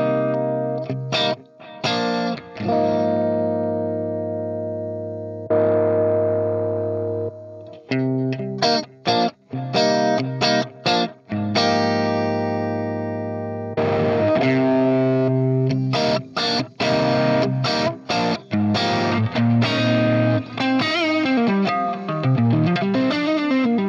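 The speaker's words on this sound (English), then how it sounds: "So let's try the pedal compressor." A Strat electric guitar plays through a compressor pedal into a Marshall Plexi amp, with sustained distorted chords and riffs, some pauses and a bending, wavering phrase near the end.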